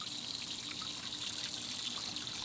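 Water shoes are rinsed under running water, which makes a steady, soft trickling and splashing that continues evenly without breaks, fairly quiet and with no talking over it.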